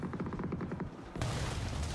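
Grenade explosions in the PUBG video game sound as a low, distant rattle of bursts that gives way to a broad, noisy boom with a rumbling tail, faint overall.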